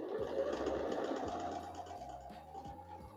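A sewing machine stitching quilt pieces runs in short, rapid mechanical bursts with brief pauses between them, quiet and close with a faint steady hum behind.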